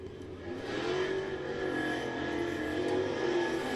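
A dirt late model race car with a 604 crate engine roars steadily at Muskingum County Speedway in Dresden, Ohio, a sustained loud engine drone with a constant whine.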